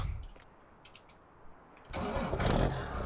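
A tractor engine starting in Farming Simulator 19: a short quiet crank and click, then the motor catches and settles into a rough, low rumbling idle, close and alone.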